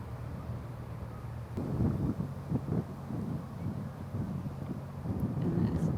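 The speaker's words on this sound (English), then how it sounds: "And it's definitely looking breezy." Gusts of wind buffet the microphone on an open disc golf course, a loud low rumble that swells and drops over several seconds, with faint voices underneath.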